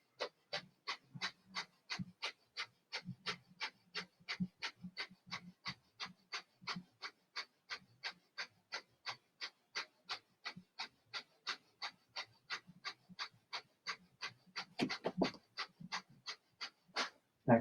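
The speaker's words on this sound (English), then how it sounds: "and begin a fire breath" Fire breath during a yoga practice: a long run of rapid, forceful, evenly spaced breaths, about two per second, close and clear against near silence.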